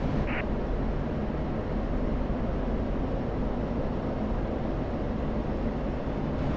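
Simulated F-16 jet engine in DCS during a takeoff roll, a loud continuous low roar and rumble that stays steady from start to end, with no speech.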